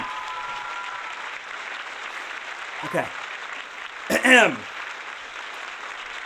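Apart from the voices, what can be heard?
studio audience applause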